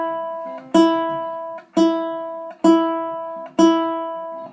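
A ukulele's E string plucked four times in a steady rhythm, each bright note sounding alone with a crisp attack and gradual fade.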